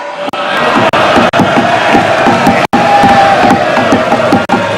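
Opposition members in India's parliament shout slogans together, a loud continuous crowd roar of raised voices with rhythmic chanting, close and sustained, broken only by a few instant cuts.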